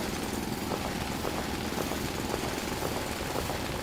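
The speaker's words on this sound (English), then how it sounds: "So we just need to drill out this area right here." Drilling out an area in the factory-building video game Foundry produces a continuous, steady mechanical drone with a faint pulsing texture throughout and no voices.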